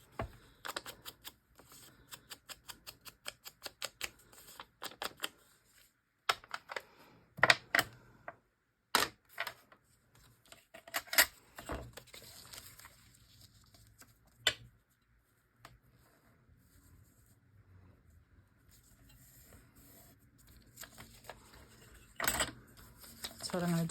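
Paper being torn by hand along an edge while crafting a four-pocket envelope, heard as a series of sharp, close crackling rips in uneven bursts with quiet gaps and some handling noise between them.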